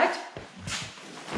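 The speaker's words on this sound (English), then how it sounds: "I think Diesel sees the neighbor's dog." Diesel the dog lets out a few quick barks aimed at a neighbor's dog, close and fairly loud, in a brief burst mixed with soft background noise.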